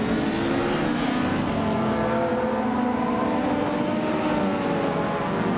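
A 1979 Chevrolet Camaro Z28 and other retro race cars in a video game race at Shanghai, heard as a loud, continuous, dense engine roar with layered revving tones throughout.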